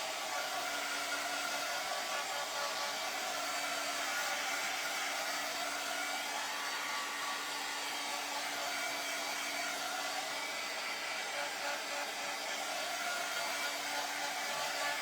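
Continuous whoosh and whine of a hair dryer blowing on a styrofoam pumpkin, steady and fairly close for the whole stretch, with a constant motor tone and no speech.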